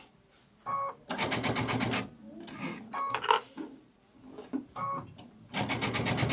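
A sewing machine stitches a sunflower wall hanging in short, close bursts of rapid mechanical chatter, separated by quieter pauses with light handling noise.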